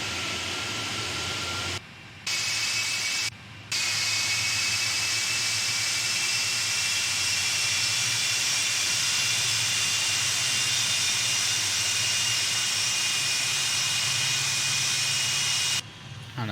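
Steady roar and hiss of PMDG 747 jet engines at taxi power in a Prepar3D flight simulator, a continuous broadband drone with a faint high whine, briefly dipping a few times.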